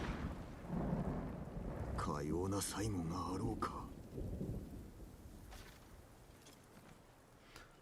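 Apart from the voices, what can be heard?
lightning strike and thunder in video game Ghost of Tsushima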